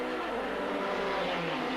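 A Michael Schumacher sports-prototype race car at the 1991 World Sportscar Championship round at Autódromo Hermanos Rodriguez, Mexico, drives onto the track with a steady, loud engine drone that holds throughout and rises slightly in pitch.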